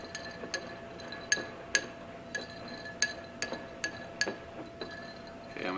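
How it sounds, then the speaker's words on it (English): Gin swirled over ice in a glass to chill it for a martini, with a series of bright, irregular clinks and rattles of ice against glass, close and fairly crisp, and no talking. "I'm going to take my gin, do a couple more spins on it."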